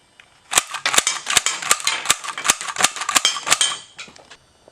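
A Marx toy Star Trek gun fires little colored discs in a rapid string of about a dozen sharp, snappy cracks, close and loud, with no talking.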